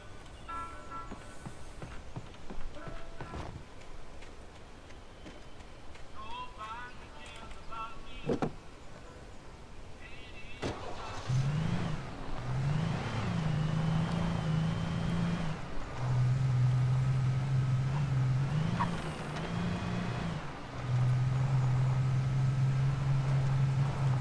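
A car engine from the video game Alan Wake drives up a rocky mountain road, a steady droning hum that rises and dips through several gear-like shifts, loud and close, with brief clicks and faint talk early on.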